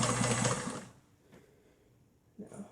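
A vintage sewing machine runs a fast, steady burst of stitching on a cloth mask. It stops near the one-second mark, then gives a brief quiet clunk and a short restart at the end.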